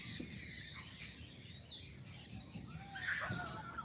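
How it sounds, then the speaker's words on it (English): A male Cooper's hawk calls from a garden, faint, distant chirping cries over a soft outdoor background with no talking. "I hear a hawk."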